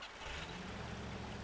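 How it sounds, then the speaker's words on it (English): A truck engine in the off-road driving game MudRunner turns over and settles into a steady low rumble that holds loud and continuous, with no voices. "Start the engine, what the hell."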